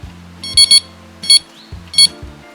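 A Prologic RMX Fulcrum carp bite alarm in sound mode gives short, loud electronic beeps, a quick double tone, then a single, then another, sounding alone at close range.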